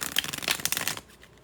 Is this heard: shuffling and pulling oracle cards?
yes